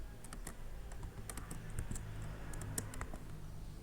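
Keys on a computer keyboard are tapped in quick, irregular bursts of crisp clicks, close and fairly quiet over a soft room hum, with no talk.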